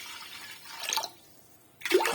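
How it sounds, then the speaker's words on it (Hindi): Water is poured into a cooking pot holding beef and chilies for palak gosht, two short splashy bursts of pouring separated by a quiet pause, fairly close. "मैं डालती हूँ यहाँ पे पानी"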